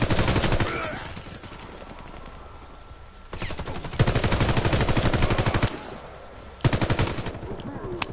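Automatic gunfire in the shooter game Warface, long loud sustained bursts of rapid shots with short pauses between volleys, no speech over them.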